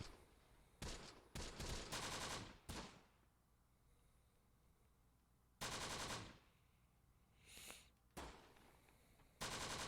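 Soldiers open fire in the Close Combat wargame, sending several loud bursts of automatic gunfire broken by quieter gaps, with a few separate volleys later in the clip and no talk.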